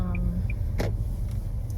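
A car being driven on a US road toward Canada, a steady low engine and road rumble filling the cabin, with a brief whoosh of something passing partway through and no talking.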